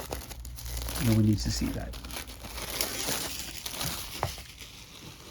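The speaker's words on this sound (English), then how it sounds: "So we have our shrink wrap off." Shrink wrap being torn and crinkled off a Zombicide: Green Horde tile set board game box, close and crackly, with a voice speaking over the rustling.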